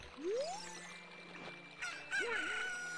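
A chicken crows in the Zelda Ocarina of Time video game, a rising synthesized squawk followed by a second, wavering call, loud and close with no talk over it.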